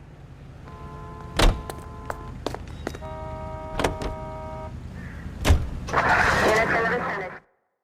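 Car doors slamming and a vehicle starting in the video game L.A. Noire, with several sharp thumps spread across a low engine hum, then a brief louder rush of noise before it cuts off abruptly.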